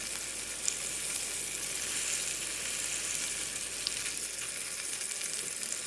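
Golden oyster mushrooms sit frying in butter in a pan, giving a steady, even sizzle like faint hiss and crackle that holds unchanged throughout, close and quiet, with no voices.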